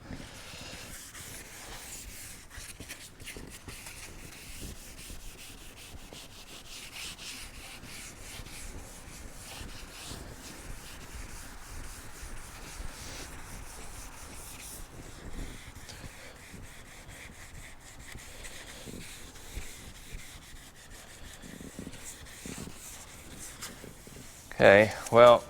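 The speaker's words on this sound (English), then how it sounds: "I'm going to keep on sanding." Hand sanding a dented car body panel with small grit sanding pads: faint, steady rubbing strokes scratch along continuously at low level, ending with a couple of sharper, louder knocks.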